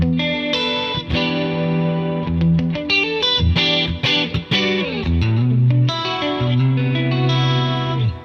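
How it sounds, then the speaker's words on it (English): Clean electric guitar tone set up for a Hyper Kiesel, with shimmering chorus-like chords and single notes played continuously, loud and close with no talking. "So this is the first clean that I've put together for Hyper Kiesel."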